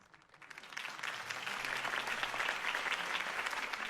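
Sustained applause from a large crowd in the video game Batman: Realm of Shadows, swelling in over the first half second and then holding steady and dense throughout.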